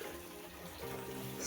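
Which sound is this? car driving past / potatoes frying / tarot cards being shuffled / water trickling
water trickling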